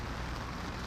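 Steady driving rain outside a Pennsylvania courthouse, a dense, even hiss of downpour with low rumbling underneath, continuous and unbroken for the whole moment, with no voices.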